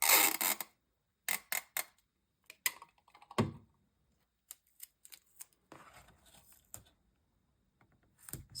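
Sticky tape being pulled off a roll and pressed onto a paper gatefold folio during a craft session, heard as sharp crackly bursts and short tearing rips separated by quiet gaps.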